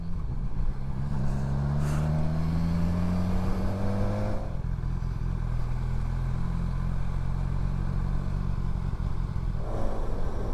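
A touring motorcycle ridden through the Pyrenees toward Andorra, its engine droning steadily and loud throughout, with a couple of rising and falling pitch sweeps as it shifts and accelerates, and no talking.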